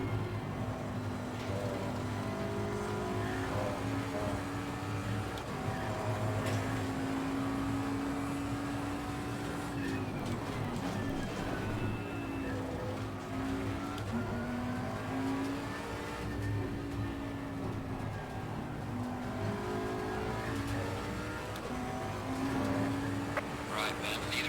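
Race car engines in Assetto Corsa Competizione, a continuous loud drone of revving motors rising and falling through gear shifts, with other cars nearby and a voice talking over the engines at times.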